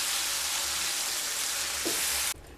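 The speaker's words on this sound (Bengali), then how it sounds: "পনির দিয়ে খুব ভালোভাবে মিশিয়ে নেব" Marinated paneer sizzles steadily in hot oil while being stirred, a dense close frying hiss with a brief scrape near the end before the sound drops away abruptly.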